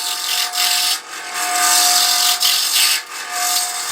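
A scrap piece of acrylic pen blank spinning on a wood lathe, a close, steady whirring rasp of turning with brief dips where the cut eases off.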